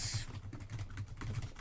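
Steady keystrokes tapping on the membrane keyboard of an Orange Pi 800 compact computer, a rapid, even run of soft-edged clicks with no talking.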